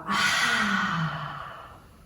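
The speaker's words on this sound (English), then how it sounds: "Breathing in deeply, opening the mouth" A deep breath drawn in through an open mouth, one long, close, airy inhale that swells quickly and fades off over about two seconds.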